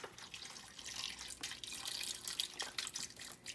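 Vegan vegetable broth pours from a carton onto vegetables in a cooking pot, a steady close splashing and trickling stream with hissy texture, fairly quiet and continuous with no talking.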